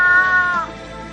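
A single cat meow, loud and close, with a clear tonal cry that holds for about half a second and then fades into faint room noise.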